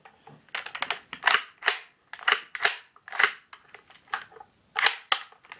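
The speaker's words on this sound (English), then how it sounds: "Simply eject your magazine." Sharp plastic-and-metal clicks and clacks from a WE Scar-L open-bolt airsoft gas blowback rifle as its magazine is ejected, a dozen or so close, distinct snaps in an irregular rhythm, with no voices.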